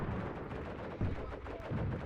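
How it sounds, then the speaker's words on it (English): Machine gun fire in the war game Graviteam Tactics, a dense, continuous rattle of overlapping bursts with heavier booms landing about every second, loud and steady throughout. "Machine guns fire out."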